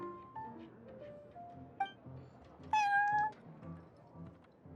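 Prince, a cat in Genshin Impact, lets out a clear, close meow in a quiet indoor shop setting, preceded by soft background sounds.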